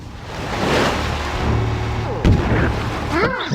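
Gunfire aimed at a girl in the video game Conker's Bad Fur Day, heavy booming shots and bursts rolling over a busy game soundtrack, with a sharper blast near the end.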